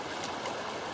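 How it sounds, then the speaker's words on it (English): Fast-flowing water of the Huon River streaming past an island, a steady close wash of broadband rushing noise with no breaks for a brief moment. "the water goes this side of the island as well, really flowing through quite quickly"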